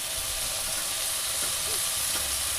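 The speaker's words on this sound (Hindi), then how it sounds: "यहाँ आलू मैं अब डाल दूँगी, क्योंकि मेरे प्याज और मिर्चा और जीरा हो चुका है।" Potatoes dropped into a pan of frying onions, chili and cumin give a steady, close hiss of sizzling oil with faint stirring clicks, held at an even level throughout.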